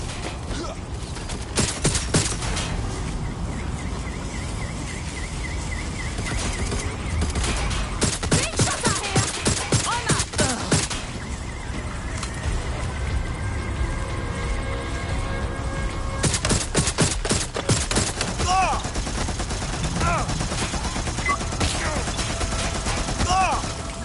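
Gunfire crackles through a firefight in Watch Dogs Legion, with loud bursts of rapid shots in repeated volleys and brief pauses between them, over a steady game background.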